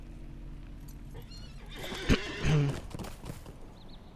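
A horse ridden in the video game LOTRO neighs loudly, then a quick burst of hooves clip-clops against a quiet game ambience, with a short whinny-like flourish near the end.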